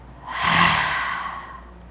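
A single slow exhale through the mouth, a soft breathy rush that swells and then fades gently, close and alone.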